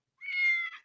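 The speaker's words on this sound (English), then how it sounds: "I got this feral cat outside the door" A single close, clear meow from a feral cat just outside a door, rising and holding for under a second before cutting off, heard on its own.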